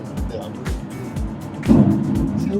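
Samsung SM5 sedan driving along, a low engine hum and road rumble inside the cabin, with a few soft thumps and some faint movement noise rising slightly toward the end.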